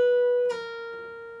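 A guitar note held on the B string at the 13th fret drops with one clean pull-off partway through, and the lower note keeps ringing softly and steadily to the end, close and alone.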